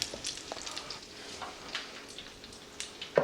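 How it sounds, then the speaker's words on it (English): A Monte Cristo sandwich fries in a pan as oil is gently splashed over its battered top, giving a soft, crackling sizzle with scattered light pops and a small clink at the end. "just splashing a little of this oil over the top of the sandwich, very gently"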